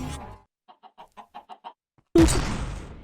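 A series of about seven short, evenly spaced clucks from a chicken in modded Minecraft, clear and moderately loud, followed by a sudden loud burst of noise.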